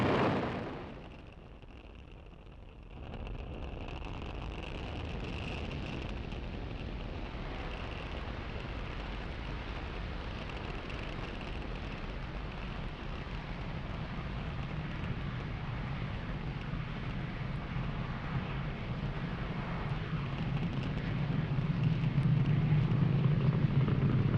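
A SpaceX Falcon rocket launching Starlink satellites from Cape Canaveral, a sustained broad roar that drops briefly after a loud start, then holds steady and swells with deep rumbling toward the end, heard alone.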